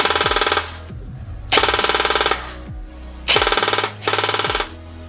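An Umarex HK416 F-S airsoft electric gun fires three loud, close full-auto bursts, each a rapid mechanical rattle of about a second, separated by short pauses.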